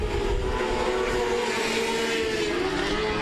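Race car at I-37 Speedway roaring past, a loud sustained engine whine with pitch sliding down as it goes by, over constant track noise and no voices.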